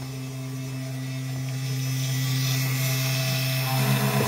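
A mini CNC machine cutting a sign at a slow feed rate gives off a steady, close electric motor hum with a faint high whine, holding even and slowly growing a little louder.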